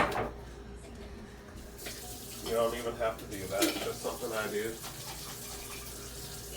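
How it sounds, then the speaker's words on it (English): A kitchen tap briefly runs a small splash of water into a pan to rinse out leftover sauce, a soft close trickle under a person talking. "I just literally put probably a tablespoon of water just to get the rest of the sauce"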